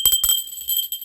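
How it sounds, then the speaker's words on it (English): A small bell struck a few times in quick succession, bright sustained ringing tones lingering and slowly fading, close and fairly loud with no talk over it. "I'm going to ring the bell on that."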